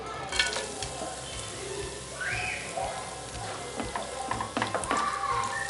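Crushed dry fruits sizzle and crackle in hot ghee in a pan while being prepared for a sugar-free dates and nuts laddu, a steady close frying hiss with scattered pops and stirring scrapes.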